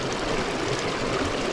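Stream water of the East Dart river on Dartmoor rushing over rocks in pocket water, a steady, close, broadband wash of flowing water with no pauses.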